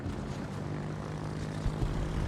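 Carrier strike planes in World of Warships drone steadily as a propeller aircraft engine hum, holding a constant level for the whole stretch with a slight swell near the end.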